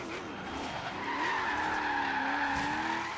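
Renault Alpine GTA rallycross race car in Forza Horizon 3, with a steady, loud engine drone and sustained tire squeal and skidding as it slides through a lap, no talk.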